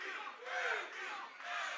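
Wrestling fans cheer and roar continuously in a jam-packed Empire Control Room in Austin, Texas, a loud, dense crowd swelling and dipping in waves.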